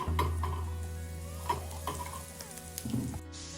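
Calamari frying in hot oil over a medium-high flame, a steady close sizzle with a low hum underneath and a few clinks from stirring, no voices.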